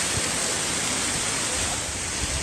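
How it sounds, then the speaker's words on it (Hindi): Rudra waterfall on the Panch Kedar trek route in the Himalayas sends down a steady, dense roar of rushing water, loud and unbroken throughout with no voices. "मेरे सामने है रुद्रा वाटरफॉल"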